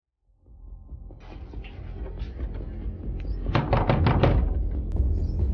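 Knocking on a door at home, several firm raps growing louder and then a quick burst of hard knocks, with some faint rustling behind.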